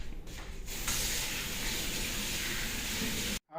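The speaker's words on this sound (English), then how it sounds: "We'll wash our hands." Kitchen tap running steadily as hands are washed at a sink, a close, continuous rushing flow of water that stops abruptly near the end.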